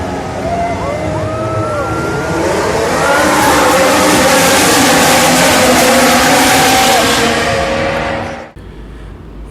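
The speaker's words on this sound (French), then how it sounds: "démarrez vos moteurs, car c'est un départ" Formula 1 race cars at the Austrian Grand Prix roaring off the start, a loud dense blare of engines with rising and falling whines that holds for several seconds before cutting off abruptly.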